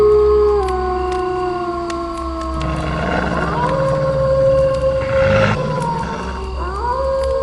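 Several wolves howl together in moonlit woods in an animated film, long overlapping rising and falling tones that sound fairly near and sustained, with no talking.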